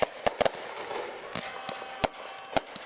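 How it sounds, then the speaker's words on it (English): Fireworks crack and pop in a string of sharp, irregular bangs at one end of a football pitch during the UPSL Division 1 championship match, Cardinal FC vs Gastonia FC, over a steady crowd and ambient hum. "We have fireworks are now going off on one end of the pitch."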